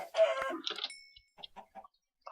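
A video game chicken clucks: one loud squawk followed by a string of short, quieter clucks in an irregular rhythm, heard close and alone.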